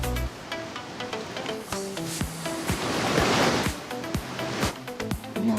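Ocean waves in a Roblox game, a steady surging wash of surf rising to a louder swell midway, heard alone under scattered thuds and clicks.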